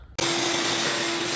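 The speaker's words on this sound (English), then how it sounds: "About to vacuum the valley cover out." A vacuum cleaner clicks on abruptly and roars steadily with a strong whine while cleaning out the engine valley cover of an LS-swapped Foxbody Mustang, loud and close.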